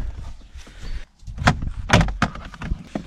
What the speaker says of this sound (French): Donc là je suis en train d'enlever le seuil de porte.